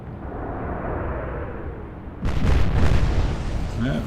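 Heavy naval gunfire and shell impacts from the Atlantic Fleet game's Battle of the Denmark Strait turret duel: a low rumbling barrage, then a louder booming burst around midway that rolls on under a persistent dull background.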